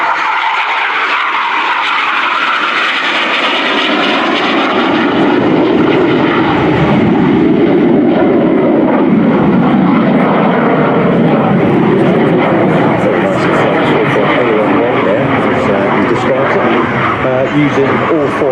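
An ex-Swiss BAE Hawk jet flying a low display without smoke pods, its loud, steady engine roar sweeping past and holding throughout, with a voice talking over it.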